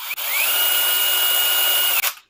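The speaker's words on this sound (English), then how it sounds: "At its highest, that's the drill part." A high-end power tool on its drill setting revs up with a brief whine, then runs at a steady loud high-pitched whir for about two seconds before cutting off and winding down, heard alone.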